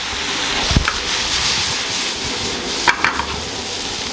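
Flour cooks in a butter and olive oil sauté in a pan for stuffed cannelloni, giving a soft steady sizzle broken by a couple of sharp stirring clinks and scrapes.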